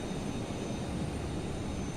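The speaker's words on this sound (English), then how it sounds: "There goes our extremely big airplane" In a flight simulator game, an A380 airliner is pushed back, its engines a low, steady airplane hum and rumble, fairly quiet and unbroken, with no talking.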